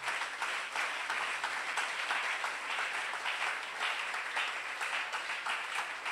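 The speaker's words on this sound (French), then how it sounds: "Est-ce qu'on peut mettre nos mains ensemble, acclamer pour le Seigneur?" A church congregation claps hands in praise during an intercession service, a steady dense burst of applause from many people that fills the room for several seconds.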